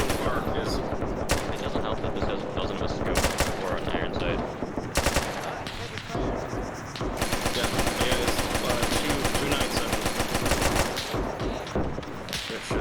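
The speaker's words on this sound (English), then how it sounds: "The issue with that gun is it also has some high recoil, but the drum mag gives it a lot of extra oomph" Heavy sustained machine-gun bursts from a drum-fed weapon rattle almost nonstop in a World War II shooter game, loud and close, broken by only brief pauses, with other gunfire and game noise mixed in.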